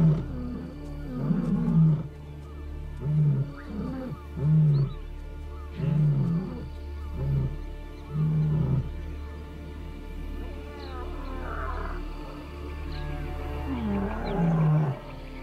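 Lions roar in a territorial chorus meant for neighbouring prides, a series of deep, throaty, pulsing bellows repeating roughly every second or two, loud and close, with a faint rumble underneath and no talk.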